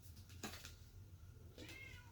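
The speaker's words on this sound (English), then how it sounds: "My kitty is meowing right now." A pet cat meows twice close by, the first call sharp and the second longer and drawn out, with a quiet room behind it and no talking.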